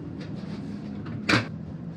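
A cupboard door in a cruise ship cabin aboard Mein Schiff Herz gives a single short wooden knock against a quiet room hum.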